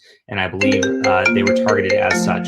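A phone rings with a melodic ringtone, bright repeating tones overlapping a voice as he keeps talking during a live stream.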